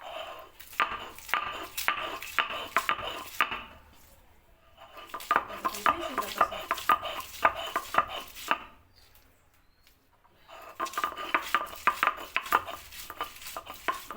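Onion and ginger being ground by hand on a stone grinding slab for a chicken curry, a close, busy run of rapid scraping and knocking strokes in three long bursts separated by brief pauses.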